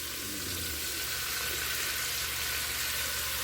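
Ham and onions fry in a pan over a campfire, giving a steady, close, full-bodied sizzle that holds evenly throughout with no talking.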